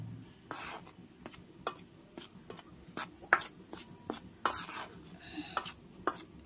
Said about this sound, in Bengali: আমি এটা ভালো করে চামচ দিয়ে আগে একটু ভালো করে মাখিয়ে নিলাম